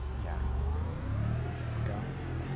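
In the video game After Conflict, a vehicle engine revs as a low, rising rumble that swells and settles, heard fairly quietly with a voice talking over it.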